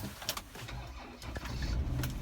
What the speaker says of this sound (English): I can start my car